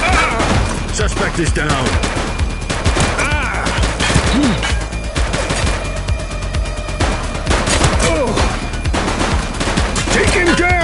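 Dense gunfire in a police shootout, rapid overlapping shots and bursts filling the whole stretch, loud and close, with shouted voices breaking through now and then.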